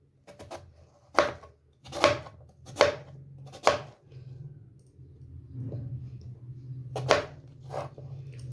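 Turnips for a sweet jaggery dish are chopped into pieces with a knife on a board, giving about half a dozen sharp, close chops at irregular intervals with quieter scraping between.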